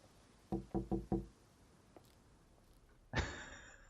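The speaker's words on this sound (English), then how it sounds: "And then knock for the window." Four quick, evenly spaced knocks on a window in a video game, close and clear, followed a moment later by a brighter burst of sound.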